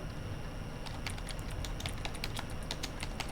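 Keys clatter on a computer keyboard as commands are entered into a text game, a quick, light run of taps heard close and fairly quiet.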